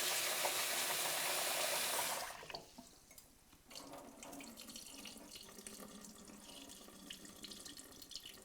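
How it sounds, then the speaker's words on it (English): Cold tap water runs hard into a bowl of sushi rice for about two seconds, then stops, leaving quieter swishing and dribbling as the grains are rinsed by hand. "take your sushi rice, pour it into a bowl, take some cold water,"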